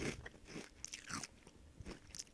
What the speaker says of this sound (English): Please excuse my horrible crunching again.